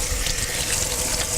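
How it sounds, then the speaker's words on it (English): Tap water runs steadily into a kitchen sink while hands are washed during stuffed chicken breast preparation, a continuous close hiss and splash with no talking. "Now, gotta wash my hands."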